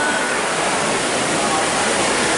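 Water pours continuously down a water drop tower exhibit, a loud, steady, broadband rushing hiss with no breaks, close and filling the whole moment.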